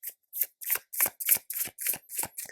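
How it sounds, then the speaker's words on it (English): Tarot cards riffled and shuffled by hand in nine quick, even bursts, close and crisp with brief gaps between, no voice over them. "So I'm gonna pull out a few conclusive cards for you"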